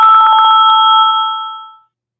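A telephone ringing with an incoming call, a single loud, bright electronic trill burst that holds for about a second and a half and then fades out, with no voices.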